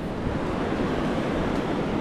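Surf breaking at a river mouth on a sandy beach, a dense steady wash of waves mixed with wind rumble, loud and continuous with no voices.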